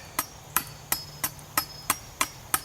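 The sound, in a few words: Gerber Gator machete chopping hardwood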